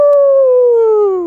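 A person imitates a wolf with a Seawolf howl: one loud, close vocal howl that slowly falls in pitch and fades slightly at the end.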